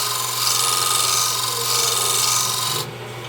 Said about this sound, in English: I'm just going to check it with my skew to make sure it's